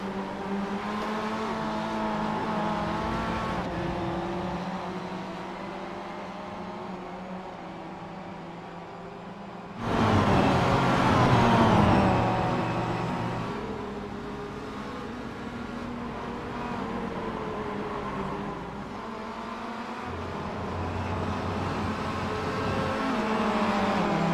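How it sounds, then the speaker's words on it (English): A turbocharged 4-cylinder race car engine in iRacing drones steadily and fairly quietly, its pitch shifting through gear changes and swelling louder near the midpoint before settling into a sustained whine, with no talking. "Let's have a listen at that wonderful turbocharged 4-cylinder engine"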